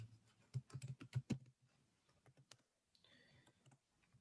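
Quick keystrokes on a computer keyboard as a folder name is typed, a close burst of clacking taps followed by a few scattered lighter clicks, with no talking.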